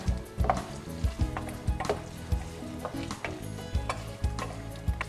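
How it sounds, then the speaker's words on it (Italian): Potatoes browning in a pan with parsley for Sardinian patate a sa schiscionera, giving a steady close sizzle broken by repeated scraping stirs every half second or so. "Le facciamo rosolare 4 o 5 minuti"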